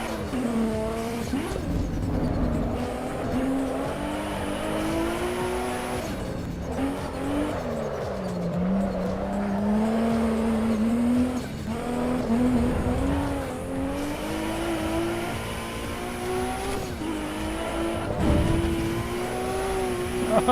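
A race car in the Assetto Corsa EVO sim racing game drifts with its engine revving hard and tires squealing in long wavering whines, loud and continuous as the pitch rises and falls.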